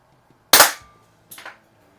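Two sharp air pistol shots fired over a chronograph, from a Beeman P17-style spring pistol: a loud close crack followed by a quieter second shot about three-quarters of a second later, with no talking.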